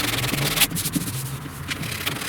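Sandpaper rubs back and forth over body filler on the inner door panel of a 1969 Chevrolet C10 pickup, a close, steady rasping scrape with brief louder strokes.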